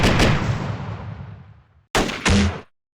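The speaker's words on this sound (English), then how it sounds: "We're getting lots of fire from the flank over here." Gunfire in the modern-warfare strategy game Close Combat Modern Tactics: a loud blast with a long rumbling decay, then two sharp, close shots in quick succession before silence.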